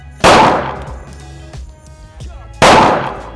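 Two loud, sharp gunshots fired about two seconds apart at a five-metre shooting range session with special forces, each a close blast with a short ringing decay.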